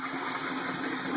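An aquaponics bell siphon on a standpipe kicks in, with steady draining water gurgling and rushing continuously at moderate volume throughout, no voices present.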